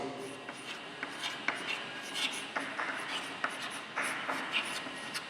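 Pen or chalk scratching out a maths problem, a string of rubbing strokes and taps, close and fairly clear, with a teacher talking over it.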